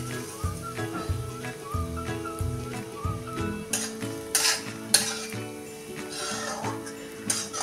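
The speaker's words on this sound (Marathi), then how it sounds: "आता अजून 1 चमचाभर तूप टाकून घेतलेलं आहे। त्यात आता हे खारीक पावडर आपण भाजून घ्यायचे।" Dry date (kharik) powder roasting in a spoonful of ghee while being stirred in a pan, with steady soft sizzling, scraping strokes and occasional utensil clinks over background music, no talk.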